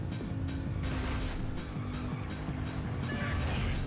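Engine drone and intermittent tire squeal from a car in Rush 2: Extreme Racing USA on the N64, a steady game engine hum with repeated pulsing squeals through the turns.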